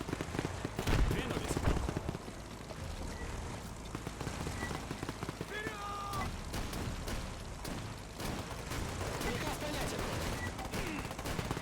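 An artillery bombardment and gunfire in the World War combat video game Men of War II, with dense crackling bursts and distant thuds over a constant rumble, mixed with talk.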